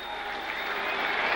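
A large racecourse crowd at the Melbourne Cup at Flemington cheers and applauds in a broad, sustained roar that stays dense and steady throughout.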